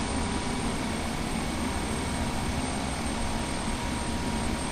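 Another aircraft taking off in Flight Simulator X, a steady, dense engine roar with no breaks, loud and constant throughout.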